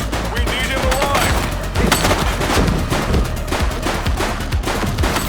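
Gunfire rattles through a police shootout in the game The Precinct, rapid overlapping shots in a dense fusillade, loud and near throughout, with voices calling out over the firing.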